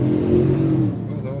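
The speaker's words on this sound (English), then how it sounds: "little Corvette, Challenger, and a Nissan 370" Sports cars, a Corvette, a Challenger and a Nissan 370, rumble and rev nearby at night on a road, a loud low engine drone that rises then eases off, with a voice talking over it.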